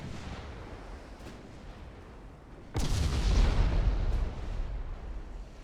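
Naval guns firing armour-piercing shells in Ultimate Admiral: Dreadnoughts, a low murmur of distant fire breaking into one sudden heavy boom at mid-clip that rumbles on loudly, with no speech.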